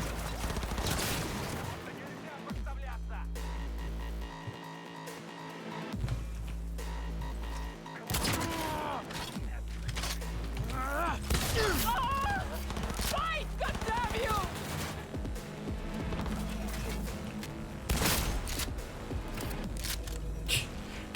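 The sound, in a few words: shotgun firing in video game Cyberpunk 2077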